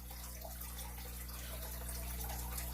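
Steady running water, like a tap or stream recording, flows as a faint, continuous background wash with a low hum underneath, no voices.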